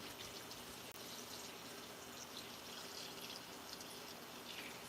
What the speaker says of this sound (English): we're going to go ahead and add in our other half gallon of water to our bucket